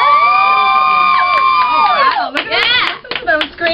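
A crowd at a D.I.V.A. program event screams and cheers loudly up close, with high sustained shrieks rising and falling, bursts of clapping and whoops building toward the end.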